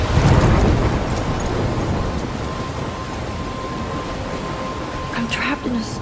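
In the Life is Strange video game, a storm sounds as a loud, rushing wall of wind and rain that opens with a deep rumble of thunder, then carries on as a steady roar.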